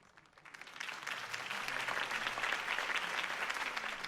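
Applause from a large crowd in a Batman video game swells in after a quiet start and holds steady, a dense, continuous patter of clapping with no talking.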